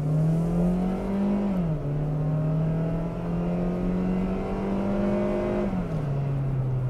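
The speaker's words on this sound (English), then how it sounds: "So there's an acceleration run." Car with a 6-speed automatic transmission accelerating hard, engine drone climbing in pitch then dropping at each upshift, two clear gear changes, heard steadily from inside the cabin with no talking.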